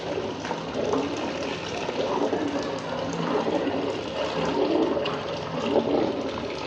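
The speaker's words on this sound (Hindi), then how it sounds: "ये हम इसके अंदर खीर डालने लगे। ये दूध हमारा उबल गया।" Kheer poured into a large pot of boiled milk, cooked in bulk for about 150 people, giving a steady rushing, splashing liquid sound that runs continuously and close up with no talking.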